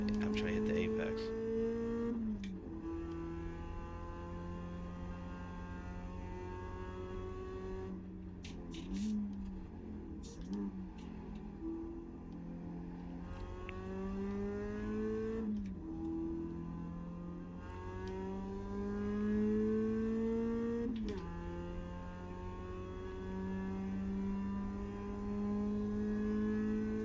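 A race car engine in the iRacing sim whines steadily, its pitch sweeping up through gears and dropping under braking, with faint tire noise, while someone talks over it throughout.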